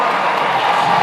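A crowd of about 8,000 at a men's college volleyball match between Hawaii and Stanford, cheering loudly and steadily in a dense, continuous roar.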